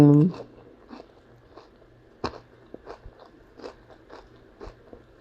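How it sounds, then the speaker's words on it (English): Crunchy bites and chewing of a homemade Taco Bell-style crunch wrap, a sharp crack followed by repeated soft crunches and mouth sounds, close and fairly quiet with a brief voice at the start. "Let me take a bite first."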